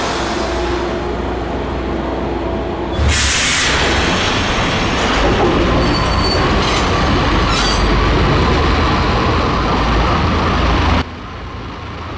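A subway train in Max Payne runs loud and close with a dense, continuous rumble and rattle. Brighter screeching bursts come partway through before the noise drops back near the end.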